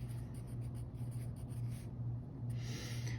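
Pen or pencil writing out an exact answer to a math practice problem by hand, a steady close scratching in short strokes over a low constant hum, with no talk.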